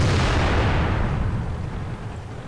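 A tank cannon shot from the World of Tanks video game, with an IS-3 Soviet heavy tank in play, comes as a loud booming blast whose rumble slowly decays over a couple of seconds, with no talking.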